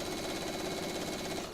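A sewing machine runs in one continuous, close, steady burst of rapid stitching as quilt binding is sewn down.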